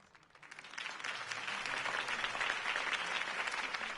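A crowd applauds Harvey Dent's campaign speech, the clapping swelling from a soft start into a dense, sustained roar that holds steady without a voice over it.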